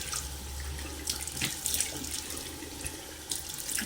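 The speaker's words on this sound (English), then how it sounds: "I'm gonna wash with cold water" Cold water runs steadily from a tap as a face is washed, with splashes and a few brief bursts over the continuous close flow, and no voices.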